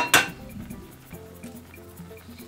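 A sharp clink of an egg against a bowl rings out once, followed by faint clatter as it goes into a pie mixture, with no talk over it.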